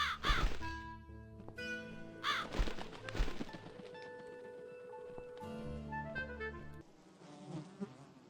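Bird cawing in the video game The Cat Lady, a few crow-like calls heard amid dense game music and droning ambient tones, with no talking.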